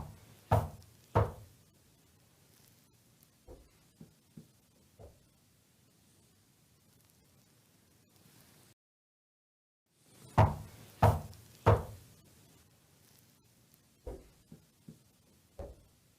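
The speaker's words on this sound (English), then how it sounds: "in response to Mandy knocking on that door, which is a closet, there are knocks in the background that we did not hear at" Knocks on a closet door, played back with the volume raised: a pair of sharp raps, then a few softer taps, a brief dead silence, then another pair of firm knocks followed by scattered lighter ones over a faint hiss.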